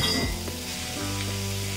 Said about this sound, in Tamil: உப்பு சேர்த்துட்டு நல்லா வணக்கி கொடுங்க.